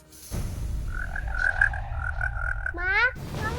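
A frog croaking in a steady, tonal run of repeated calls over a low rumbling background, close and fairly loud, ending in a quick rising trill before cutting off.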